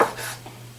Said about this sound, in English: Now we'll just cut up our two breasts.